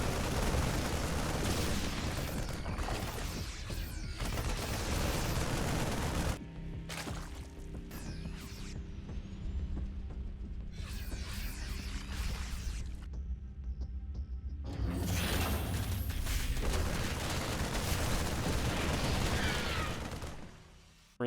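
Marines open fire in a StarCraft 2 Terran versus Zerg battle, dense rapid gunfire and impacts in loud bursts that thin out in the middle, then swell again into heavy crackling fire.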